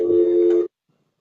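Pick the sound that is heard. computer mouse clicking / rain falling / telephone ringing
telephone ringing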